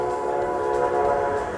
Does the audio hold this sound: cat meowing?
no